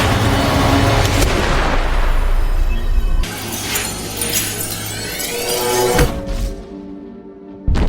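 Gunfire rings out in a film shootout between John and Charles: a dense, loud barrage of shots and impacts, then shattering and booming hits before a brief lull and a final sharp blast.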